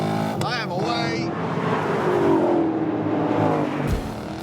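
A Ford Mustang V8 GT and a Chevrolet Camaro V8 drag racing, with a loud sustained engine roar rising in pitch as they accelerate, heard under someone talking.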